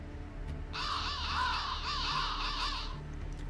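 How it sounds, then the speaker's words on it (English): A loud flock of crows caws in Fate/Grand Order's Salem, a dense run of overlapping harsh calls lasting about two seconds over a low background hum, with no voices. "I've never seen so many crows in one place."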